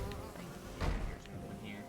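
Bees buzzing in the video game Hollow Knight, a soft droning hum with faint wing flutter that rises briefly in the middle and then settles, heard close over game sounds.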